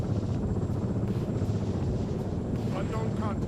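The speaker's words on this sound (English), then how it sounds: "We have a helicopter flying there" A helicopter in Arma 3 drones with a steady low rotor rumble and thrum, continuous and fairly loud, while a voice talks over it.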